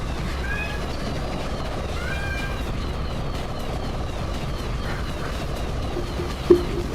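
Cats meowing in the video game I-Ninja, several rising and falling meows repeating through a steady, busy game soundscape, moderately loud and fairly close, with a brief sharp thump near the end.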